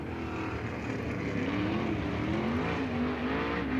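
Sprint race cars run laps at Lucas Oil Speedway in a steady engine roar with a rising, sweeping whine as they pass, loud and continuous.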